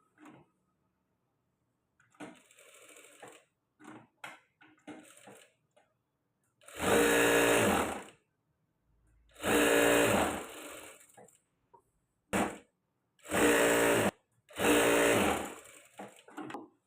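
Sewing machine stitching the lining of a padded princess-cut blouse, running in several bursts of a few seconds each with brief pauses and some quieter handling sounds between them.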